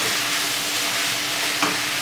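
Canned tuna, three cans' worth, fries in a pan with a steady, dense sizzle that holds even throughout and has one brief stir or clatter near the end, with no voices.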